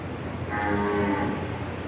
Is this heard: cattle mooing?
yes